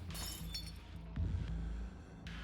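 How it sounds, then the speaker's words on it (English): Window glass shattering in a spooky story scene, a sudden breaking crash with scattered clinks over a dense, steady low rumble of background music, no voices. "The window shatters."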